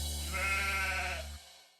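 A single sheep bleats one sustained, wavering call, fairly close and alone, cutting off abruptly and fading to silence.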